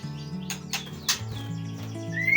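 Young white-rumped shama (murai batu) chicks give short chirps and rising tweets close by, against a steady hum of other tones.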